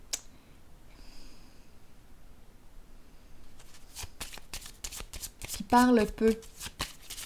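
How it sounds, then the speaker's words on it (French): Tarot cards shuffled in quick crisp riffling bursts, close by, following a quiet stretch, with someone speaking briefly over the shuffle. "je vais piger une carte sur l'intuition à l'envers"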